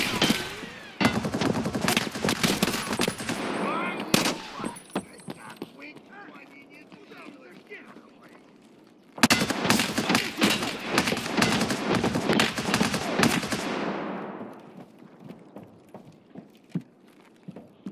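Rapid automatic gunfire while killing a guard in Escape from Tarkov, two long loud bursts separated by a quieter stretch, with someone speaking over the action.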